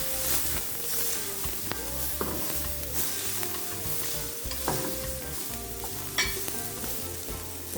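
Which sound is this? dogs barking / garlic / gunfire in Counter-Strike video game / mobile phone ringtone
garlic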